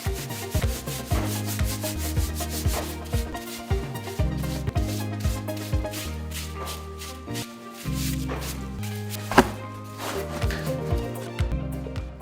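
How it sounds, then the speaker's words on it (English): Wild boar meat rubbed by hand with salt, sugar and spices, rhythmic scraping strokes repeating every second or so, close and steady, with background music underneath. "rubbing it dry with a mixture of salt, sugar, and spices"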